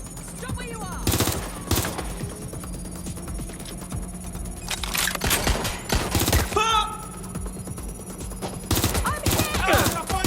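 Heavy gunfire in the video game Watch Dogs: Legion, with repeated loud sharp shots and bursts scattered over a steady hum, while voices shout now and then between the shots.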